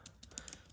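Brief typing on a computer keyboard, a few light, quick key clicks, faint and close with no talking.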